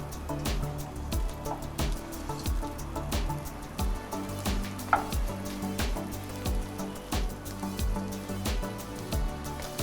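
A Spanish omelette sizzles in a hot frying pan, its edges crisping, giving a steady close spitting and crackling with scattered pops and drips throughout, no talking.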